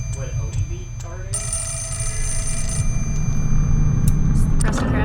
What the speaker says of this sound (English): Got another phone call.